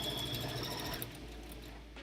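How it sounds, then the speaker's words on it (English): A sewing machine top stitches through felt and lining, a steady close mechanical hum that slows and fades toward the end. "I'm just gonna do a top stitch to keep the lining inside and to basically finish the top"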